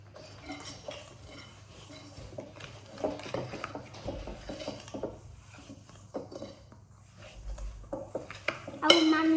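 Jammy Dodger biscuit dough being mixed in a bowl, with soft scraping and clinks of a utensil against the bowl at a moderate level, ending in a sharper clatter.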